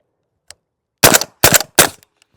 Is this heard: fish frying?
no